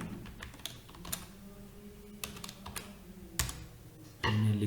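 Typing on a computer keyboard while writing a document in Microsoft Word, with irregular clusters of close, crisp key clicks and a louder thump near the end.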